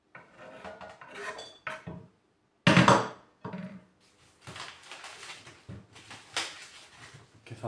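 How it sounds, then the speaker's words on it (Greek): A knife slices peeled ginger and garlic into rounds on a board, giving short, sharp cutting clicks and scrapes in quick, uneven bursts, with brief pauses between them. "Ginger σκόρδο, έτοιμα. Τα κόβω σε ροδελίτσες."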